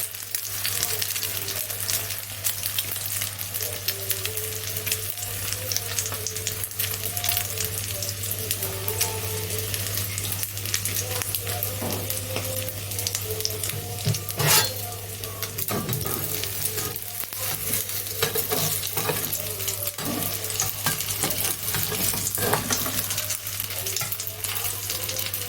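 An egg pie sizzles steadily in a hot pan on a low flame, a constant crackling fry with a low steady hum beneath and occasional scrapes and clatter, lasting the whole stretch without any voice.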